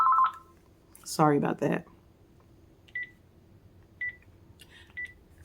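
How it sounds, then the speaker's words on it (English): A house phone gives a short electronic tone at the start, then a few brief beeps sound at a distance further on, with one person speaking in between. "That's just my house phone."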